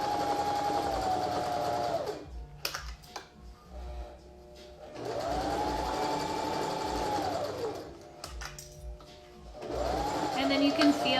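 Sewing machine stitching a face mask, running in three sustained bursts with short pauses between as the fabric is pivoted, loud and close.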